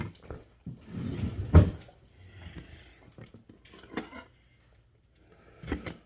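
A container is taken out of a kitchen cupboard: a quiet door clunk and a rustle of handling, then a few faint knocks as it is set down, in a quiet room.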